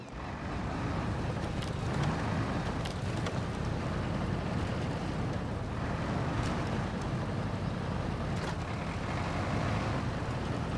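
A truck engine runs steadily in Expeditions: A MudRunner Game on Nintendo Switch, a continuous low rumble with a broad noisy wash and occasional faint clicks, loud and unbroken throughout with no talk.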